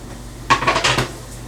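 Chopped onions and peppers tipped into a cooking pot for marinara sauce, a short burst of clattering and scraping against the pot lasting under a second amid quiet room tone.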